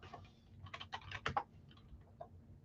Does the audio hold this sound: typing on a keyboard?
yes